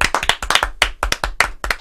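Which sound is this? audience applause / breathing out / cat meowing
audience applause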